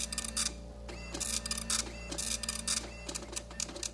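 A computer printer churning out a long listing of letters and numbers, with rapid rattling print bursts and rhythmic mechanical clicks over a constant low motor hum, close and continuous.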